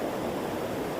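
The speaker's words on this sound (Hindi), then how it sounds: "ये जो पानी का जो साउंड आपको सुनाई दे रहा है" Steady rushing flow of the Yamuna river near Yamunotri in the Himalayan mountains, a dense continuous roar of water close by, loud and unbroken, with no voices.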